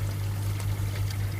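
Water gushes steadily from a drain pipe into an aquarium sump, a continuous close splashing pour over a strong low pump hum, with no break.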